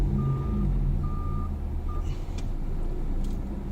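A lorry's reversing alarm beeps in slow, evenly spaced tones beside a house demolition, sounding over a loud, steady rumble of engine and street noise.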